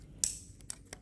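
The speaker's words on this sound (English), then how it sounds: "Just plug everything in. Make sure that you hear a click" A wiring harness connector snaps into place on a Lexus 3UZ V8 engine, giving a sharp, close click followed by two fainter clicks in an otherwise quiet space.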